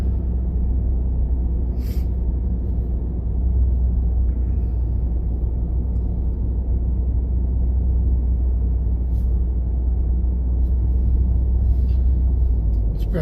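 Steady low engine rumble and road noise from inside a car driving through small-town Shrewsbury, Pennsylvania, continuous and even throughout with no voices.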